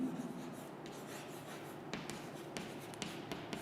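A pen scratches and rubs across paper in quiet, close strokes with small pauses and faint rustles, as notes are taken during a physics lesson on energy loss while a capacitor charges; no talking is heard.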